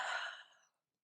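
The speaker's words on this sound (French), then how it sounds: "quand tu peux plus retenir ta respiration, tu viens bâiller de tout ton cœur" A deep, breathy yawn during gentle bedtime yoga, drawn out while the arms lower, loud at first and then fading over under a second into silence.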